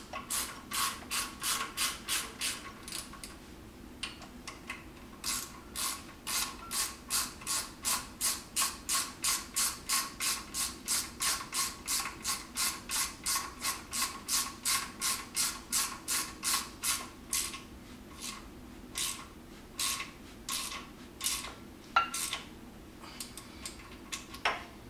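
A socket ratchet fitted with an Allen head socket clicks rapidly and steadily while tightening a brake caliper bolt, a long run of loud, close, even pawl ticks with a few short pauses.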